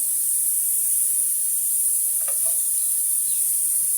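Oil hissing and sizzling steadily in a hot pan on a gas stove, readied for a Telugu fish curry (chepala pulusu), with a faint clink of a spoon partway through.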